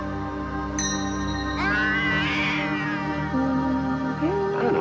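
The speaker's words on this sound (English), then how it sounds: "Hold on to that cat good and tight now, Larry." A cat meows in a drawn-out, wavering caterwaul, loud and close, with several rising and falling cries over a sustained musical tone, no speech.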